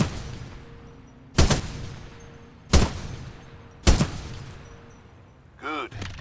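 Weapon fire in Titanfall 2 booms out as three sharp, loud single shots spaced about a second apart, each with a short decaying tail, followed by a brief electronic warble at the end.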